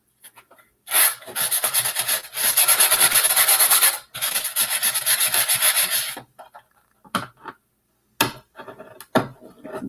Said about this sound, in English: I'm just going to sand it to make it smooth.